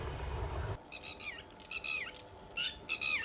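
Birds squawk and call in a few short, bright bursts, fairly loud and close, following a low rumble that cuts off abruptly at the start.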